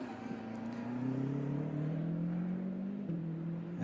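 A DTM race car with a punctured front tyre drives slowly off the track, its engine a steady, moderately distant drone with a slight rising pitch and one brief gear change, no voices.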